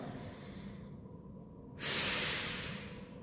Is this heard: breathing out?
yes